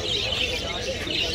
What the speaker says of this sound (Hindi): ये है बुलबुल।